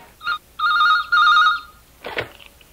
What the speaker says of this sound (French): le téléphone sonne dans la salle de rédaction